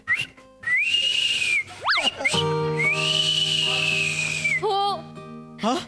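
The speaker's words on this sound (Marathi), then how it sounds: "तुला ही शिट्टी आठवते." A person whistles a signal whistle, long sustained high tones with rising and falling slides, loud and close, repeated across several phrases on a comedy stage.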